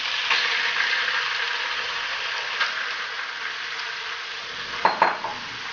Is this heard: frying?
yes